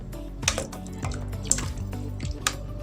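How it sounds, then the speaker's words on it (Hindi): Soy sauce poured into a pot of homemade chicken corn soup, a few soft drips and liquid splashes landing about once a second over a quiet simmering background. "ये देखिए सोया सॉस डाल लेते हैं"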